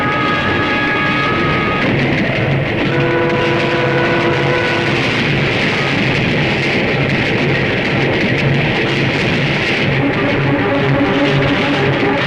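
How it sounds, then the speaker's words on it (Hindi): A train rushes past without stopping, a loud continuous rumble and rattle with sustained horn-like tones throughout. "अरे ये क्या, ये ट्रेन रुकी क्यों नहीं?"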